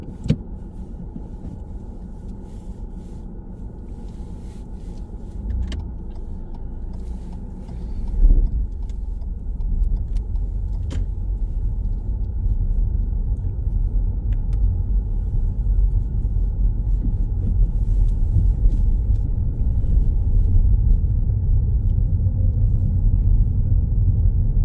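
Steady low rumble inside a car driving a practice driving test route in Greenford, engine and road noise constant throughout with a brief bump partway, no one talking.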